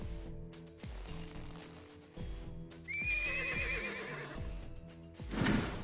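A horse whinnies in the video game Trials of Rowmance, a long shrill neigh with a wavering tail over steady rhythmic clip-clop hoofbeats, ending in a snort, moderately loud with no talking.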